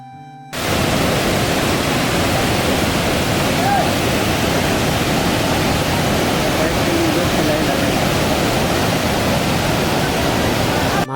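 Water rushing over the rubber dam on the Falgu river in Gaya, fed from the Ganges, a loud continuous broadband roar that starts abruptly and holds steady throughout, with no speech.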